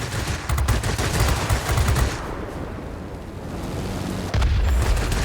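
Forward-facing guns on a bomber fire in a video game, loud rapid bursts at the start, a quieter stretch in the middle, then another burst near the end.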